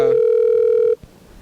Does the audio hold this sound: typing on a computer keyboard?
no